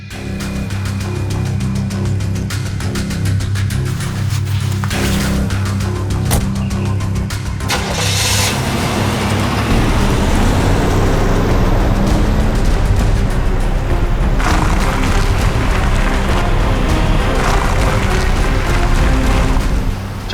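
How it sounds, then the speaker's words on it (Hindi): A car engine starts up and runs steadily through the whole stretch, a loud low rumble that swells and holds as the vehicle is driven, with no talk over it. "गाड़ी चलाओ"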